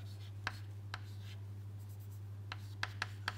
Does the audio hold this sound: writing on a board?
yes